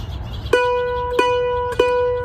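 Mandolin downstrokes on the second fret of the A string, three bright, ringing strums evenly spaced about two-thirds of a second apart, each sustaining into the next, played alone up close.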